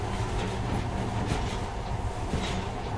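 A monorail train runs through a tunnel in the PS4 video game Metro, giving a steady, loud, dense rumble and rolling hum that carries on without a break.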